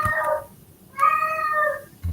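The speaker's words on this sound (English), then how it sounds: "Whose cat's that?" A domestic cat meows twice, close and clear, each call a drawn-out tonal cry with a pause between, followed by a short low thump at the end.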